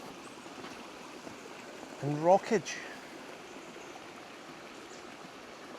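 The Hartburn River near the Hartburn grotto in Morpeth flows over rocks in a constant, full rushing wash, with someone speaking briefly midway over the water.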